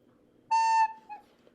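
A single sustained pure tone, the musical note A, holds steady for about a third of a second, then a softer brief echo of the same pitch follows.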